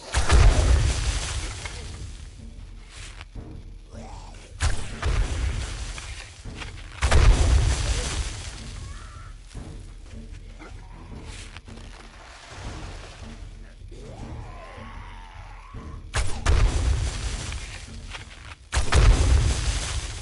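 Repeated heavy explosions in the video game 7 Days to Die on PS5, five or six loud booming bursts spaced a few seconds apart with quieter rumbling between them.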